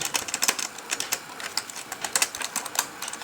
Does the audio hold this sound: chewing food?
no